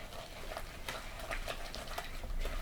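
Egg and flour batter is mixed in a bowl, steady soft stirring with faint ticking spoon-against-bowl taps repeating through, close and quiet with no talk.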